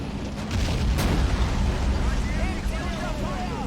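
In Men of War: Assault Squad 2, a tank cannon fires a high-explosive round with a sharp blast over loud, continuous battlefield rumble near Kursk in 1943, while someone talks over it.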